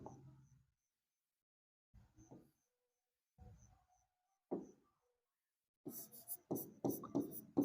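A teacher writes out the concave mirror formula in short bursts of scratchy strokes, separated by pauses, quiet and close, growing busier toward the end.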